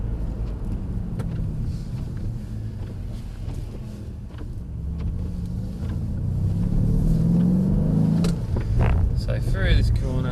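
An AMG car accelerates on a wet track, its engine rumbling steadily and building toward a louder, rising pitch near the end, with tire and road noise underneath.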